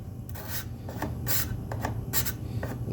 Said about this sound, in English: scrape out any of that excess glue that I have